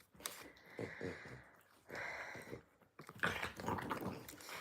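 French bulldogs make snorting, snuffling and grunting noises in three bursts, close and fairly loud, with short pauses between them.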